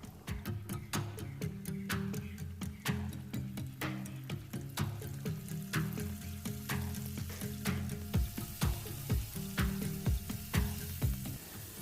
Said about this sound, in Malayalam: ഇതുപോലെ നമുക്ക് പല ബാച്ചായിട്ട് ചിക്കൻ ഫ്രൈ ചെയ്തെടുക്കാം.